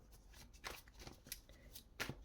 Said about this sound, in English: I'm gonna start shuffling the tarot cards already.